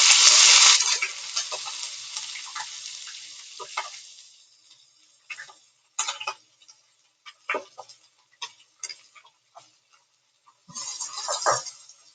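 Onions dropped into a pan of frying vegetables set off a loud hiss of sizzling that fades into scattered crackles and pops. The sizzle surges again near the end, close by, with no talk.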